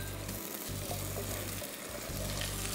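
Ginger paste sizzles in hot oil in a pan while cooking pulao or biryani, a dense, continuous frying hiss close up, with a low hum pulsing underneath.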